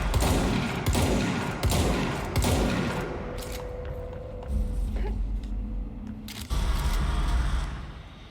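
Loud bursts of gunfire and crashing impacts fill a firefight in the video game Control, dense and continuous with brief lulls, a sustained tone running underneath for a few seconds.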